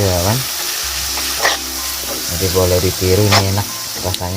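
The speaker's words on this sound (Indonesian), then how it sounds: "Ini tempoyaknya kita goreng bersama dengan cabai tadi" Tempoyak, fermented durian paste, frying with chilies in a pan, a steady sizzle and hiss with stirring under continuous talk by a speaker.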